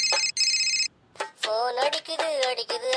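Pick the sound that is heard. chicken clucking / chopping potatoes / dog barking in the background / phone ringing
phone ringing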